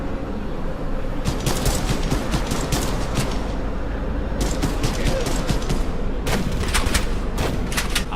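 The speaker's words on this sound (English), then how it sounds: "I hear a shotgun." Bursts of loud shotgun fire in the video game ADACA, with rapid repeated blasts in clusters separated by brief pauses over a constant roaring background of combat noise.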